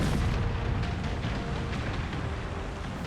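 Massed cannon fire in the naval warfare game Empire: Total War, a continuous rumbling roar of booms and blasts blending into one heavy, dense barrage throughout, with no talk.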